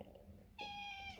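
A house cat gives one short, clear meow after a quiet stretch, close and moderately loud.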